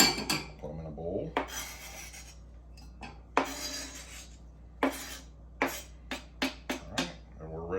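Homemade pickled long beans are tipped into a bowl with a run of clattering, scraping knocks of utensil against dish, some sharp and close, with a brief bit of talk partway through.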